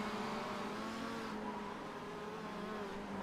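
Touring cars racing side by side in a racing video game, a faint steady engine drone with a slight pitch shift partway through, low in level and without talk.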